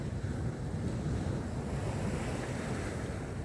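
Sea waves break and wash onto a beach at Corton in a continuous loud roar of surf, mixed with gusty wind buffeting the microphone.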